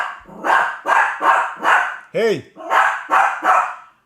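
A pet dog barks repeatedly in close, loud bursts, about eight sharp barks in a steady rhythm, with a short whine or yelp in the middle and a man's brief exclamation at the start.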